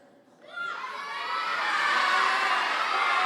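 A school talent-show audience breaks into loud shouting, many young voices yelling out numbers at once for a card magic trick, the crowd noise swelling quickly and staying dense and sustained.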